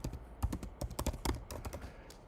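Quick, uneven tapping on a computer keyboard, a run of sharp clicks with short pauses, close and clear with no talking.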